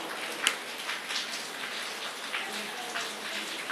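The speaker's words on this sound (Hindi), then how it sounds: "बारिश भी हो रहा है" Rain falls steadily, a soft, even hiss of drops on a surface with a few sharper close taps, nearby and continuous with no voices.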